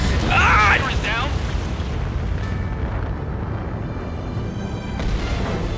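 Missile explosion shockwave in the combat flight game Ace Combat 7: Skies Unknown, a loud booming blast that rolls into a sustained low rumble, with a brief whoosh midway and a renewed swell near the end.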